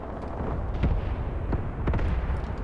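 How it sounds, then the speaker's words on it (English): Artillery strike explosions in the WWII tactics video game Graviteam Tactics, with several distant booms and thuds scattered over a low rumbling background, with no talking. "I'm having an artillery strike drop way back here"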